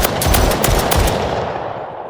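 Rapid bursts of pistol gunfire from an Unreal Engine 5 Call of Duty Zombies-style game, several sharp close shots in quick succession during the first second, then a ringing tail that fades.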